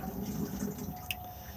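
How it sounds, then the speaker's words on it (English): Push-button flush of a cassette toilet in an Auto-Sleeper Symbol motorhome, a brief trickle and gush of water into the bowl, close by, with a small sharp click from the mechanism partway through. "then we have push to flush"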